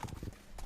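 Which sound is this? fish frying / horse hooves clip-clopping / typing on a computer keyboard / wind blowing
horse hooves clip-clopping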